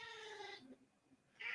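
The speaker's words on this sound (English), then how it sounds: "Your cat is going off" A pet cat lets out a drawn-out, faint meow that trails off, followed by a second rising cry, heard quietly in the background of a live podcast call.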